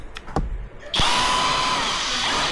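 A Tanzu impact drill spins up hard after a few short knocks and taps, then settles into a loud, steady, close whine with a high pitched ring that runs to the end.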